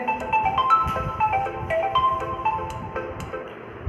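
A phone ringtone goes off during an online class, playing a bright, repeating electronic melody of short stepped notes at moderate volume over faint background noise. No speech.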